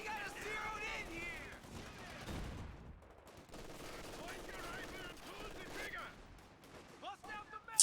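Bursts of machine-gun and rifle fire in a competitive online war game match, MG34 among the weapons, rattling in clusters under excited talk from players or commentators.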